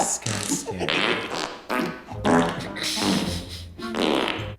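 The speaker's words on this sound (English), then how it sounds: "Stop farting!" A long, loud run of farting noises, several sputtering bursts back to back with brief breaks, close and dry over about four and a half seconds.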